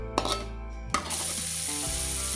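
Spice paste stir-frying in hot oil, with a few sharp clatters of a utensil at the start, then a loud, steady sizzle that continues to the end.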